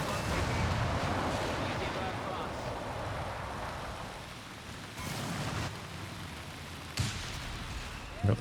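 A white phosphorus artillery barrage lands in the World War II strategy game Company of Heroes 3, with a rumbling wash of shelling fading over several seconds, then a couple of sharp distant impacts.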